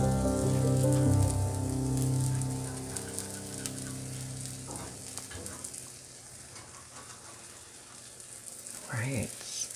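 Sourdough pancakes frying in oil in a pan, a steady close sizzle running throughout, with a voice talking loudly over it at the start and occasional murmurs later.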